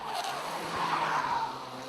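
Race cars brake hard into a hairpin during a TVKC kart final, giving a sustained tire squeal and skid under continuous engine noise, loud and close for the whole stretch.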